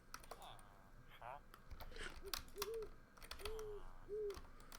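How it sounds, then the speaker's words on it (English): An owl in modded Minecraft gives several soft, evenly spaced hoots, mixed with rapid keyboard typing and clicks and occasional talk in the background. "You're a noisy fucking owl."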